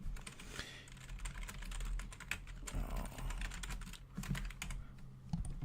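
Rapid clattering keystrokes on a computer keyboard as a name is typed, close and continuous in quick irregular bursts, with faint room sound underneath.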